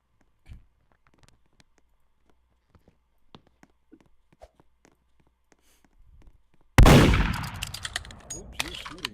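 Rapid gunfire bursts from a Roblox Murder Mystery 2 tournament match, a sharp loud cluster of shots breaking out after near silence with scattered faint clicks, continuing as a dense clattering volley.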